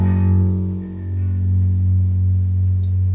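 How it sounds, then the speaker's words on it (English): A single low piano bass note, F sharp, from a beat, held steady and loud for a few seconds with no talking. "And then you land on the F sharp."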